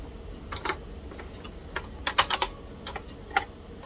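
Keys clacking on a TRS-80 Color Computer 2 keyboard as a BASIC program is entered, a sparse, irregular run of close, crisp keystrokes with short pauses between bursts, no voices.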